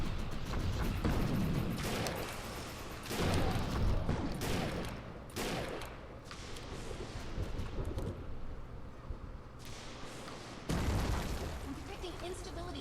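Sniper rifle shots ring out in the shooter game Defiance 2050, a series of sharp, loud bursts with rumbling decay spread across the stretch, mixed with game sounds.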